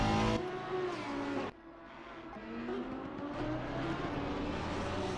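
A Honda GT race car in Assetto Corsa Competizione at Spa-Francorchamps accelerates hard out of a corner, its engine note climbing steadily through the revs, loud and close with no talking.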